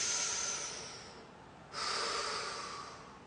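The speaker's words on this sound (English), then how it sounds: "Breathe in." A deep breath drawn in through the nose during a stress-reset exercise, a soft airy inhale that fades, then a second, stronger nasal intake, close and alone.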